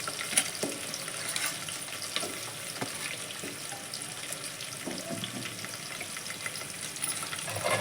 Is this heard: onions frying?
yes